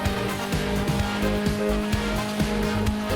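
A cluster of race cars in the video game Hot Lap Racing, including the Abarth 500, roar together with steady engine drone and repeated short tire squeals and skids, loud and close with no talking.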